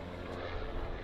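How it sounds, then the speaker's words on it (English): A helicopter chopper drones steadily overhead, a dense broadband rotor and engine roar filling the air outdoors near a Porsche 911 Turbo, continuous and fairly loud with no voices. "And I hear that goddamn chopper."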